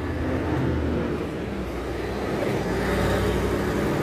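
Cars speeding along a city street, heard as a continuous, fairly loud traffic roar that swells slightly as vehicles pass, with no speech.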